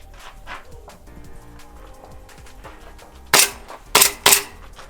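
Three loud, sharp gunshots fire in quick succession during a shoot/no-shoot drill at a PCSL competition match, following a stretch of quieter ambient noise with no talk.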